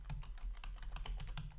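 Rapid keystrokes on a computer keyboard, including a Tab key press, tapping in an irregular quick rhythm up close over a steady low hum.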